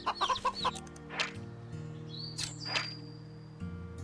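Hens in the video game Wytchwood give a short flurry of clucks up front, then a few scattered chirps and game effects over quiet, sustained background music.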